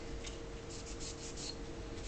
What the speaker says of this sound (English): So the first thing I'll do is just wipe down the rails